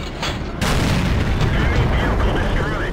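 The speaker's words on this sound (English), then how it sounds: "With an Nashorn you can afford to take blind shots like these, because you have enough ammunition" A Nashorn tank destroyer's gun fires in World of Tanks: a heavy, booming shot bursts out and rolls into a long, loud rumbling tail, with a voice talking over it.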